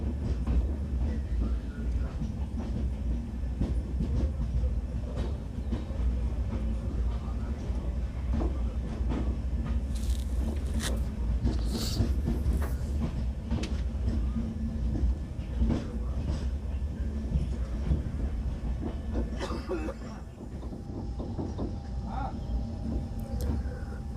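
A train rumbles through Akbarpur station on the Ayodhya–Varanasi line, a continuous low rolling drone with scattered clicks and brief high squeals, steady and close for the whole stretch.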